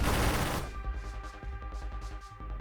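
Rapid repeated weapon fire from a ship in the space shooter Nova Drift, a steady stream of sharp pulsing shots after a loud opening burst, with a sustained tonal hum underneath.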